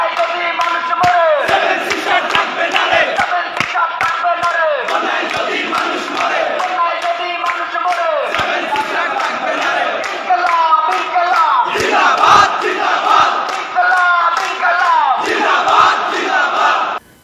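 A large crowd at Dhaka University chants a political slogan in loud, steady, rhythmic unison, with voices rising and falling together throughout and cutting off abruptly at the end.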